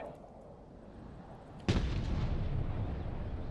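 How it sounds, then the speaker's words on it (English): Artillery fires a barrage in the video game Broken Arrow: one sharp, loud boom erupts midway and then rolls into a sustained rumbling roar of continuing fire and explosions. "we're going to go ahead and get a barrage going on that position there"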